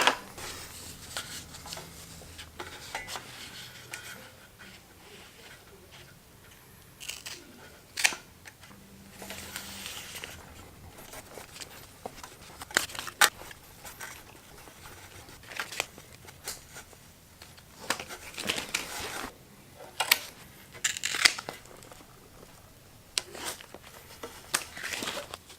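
Hook-and-loop velcro tape is pressed and stuck onto a Pedaltrain Classic 2 pedalboard and pedals, giving scattered close crackles, rips and taps at irregular intervals across a quiet background.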